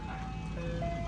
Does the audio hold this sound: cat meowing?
no